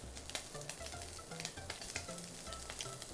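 Onions sizzle and crackle in a hot pan while being stirred for a Neapolitan-style spaghetti sauce, with steady frying hiss and rhythmic scraping strokes close by, no talking.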